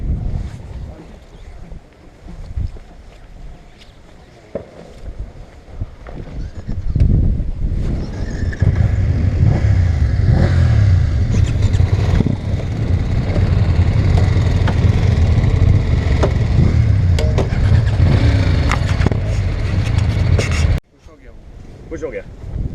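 BMW R1250 GS motorcycles pull away together, their engines swelling into a loud, steady rumble mixed with wind noise for most of the stretch, then cutting off sharply near the end while a voice talks over the start.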